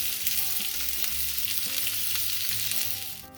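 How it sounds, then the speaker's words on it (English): Chicken pieces browning in hot olive oil for a cherry and thyme chicken dish give off a steady, close, crackling sizzle that runs unbroken and eases off slightly at the very end. "so we're just going to drop our chicken in here"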